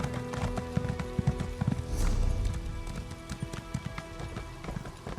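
A horse ridden in Elder Scrolls Online clip-clops along in a steady rhythm of close hoofbeats, with a brief swell of louder movement partway through and no talking over it.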